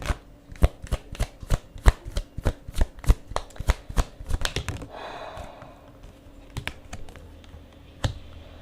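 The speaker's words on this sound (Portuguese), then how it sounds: "Pegar mais uma sequência aqui de cartas" Tarot cards shuffled and drawn by hand: a steady run of sharp, close riffling snaps and taps, then a softer sliding spread and a few last isolated flicks.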